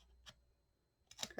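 Scissors snip paper for a Halloween coffin bookcase craft project, in a few faint, crisp cuts: one short snip, a pause, then two or three quick ones, with no talk.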